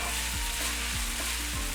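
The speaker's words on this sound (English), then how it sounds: "So I'm going to cook the noodles for about 3 to 5 minutes. I just want to make sure that the garlic is cooked all the way through." Sweet potato noodles with garlic stir-fry in a hot pan for vegan japchae, a loud steady sizzle broken by a few low scraping strokes of the utensil, with no talking.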